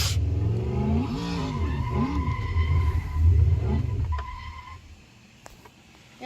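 A car in a racing video game drifts through corners, its engine revving and swooping in pitch while tires squeal and skid. The sound stays loud and busy, then thins out near the end.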